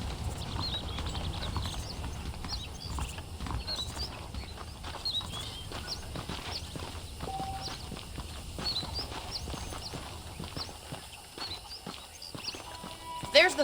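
Horse hooves clip-clopping at a steady walking pace in the Western game Red Dead Redemption, continuous and moderately close over outdoor ambience with faint birds, while a voice talks over it.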